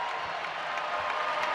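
Home crowd at a college basketball game, New Mexico State at Western Kentucky, applauding steadily in an arena, a dense even wash of clapping and cheering throughout without clear speech.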